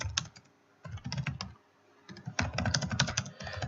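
Fingers type on a computer keyboard into a Google Doc, close rapid clicking bursts separated by short pauses.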